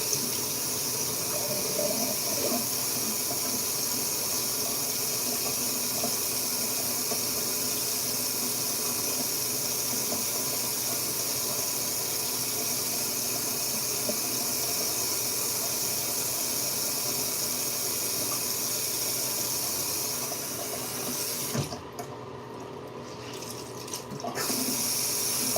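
Tap water runs steadily into a sink for a face wash, a constant close rushing splash that lasts almost the whole time before briefly dropping off near the end.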